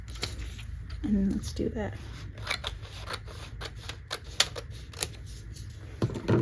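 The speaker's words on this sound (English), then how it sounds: "let me just cut this to make this a little smaller." Scissors snip through a heat transfer sheet in several quick, close cuts at a craft table, crisp and rhythmic, with someone speaking briefly in between.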